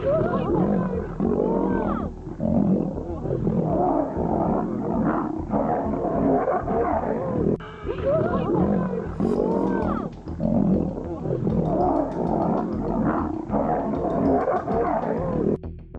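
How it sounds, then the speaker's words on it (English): Wild lions fight, giving out deep, loud, overlapping roars and snarling growls in several sustained bursts with brief pauses between them, close and intense throughout. "Lion versus lion fights are intense battles that showcase the raw power, agility, and dominance of these majestic creatures."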